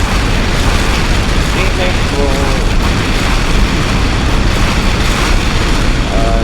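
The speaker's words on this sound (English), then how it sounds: "Then you can also press X to launch nukes." A nuke explodes in the Minecraft Rival Rebels mod as a loud, sustained rumbling roar with crackling debris, dense and continuous, while a voice talks over it.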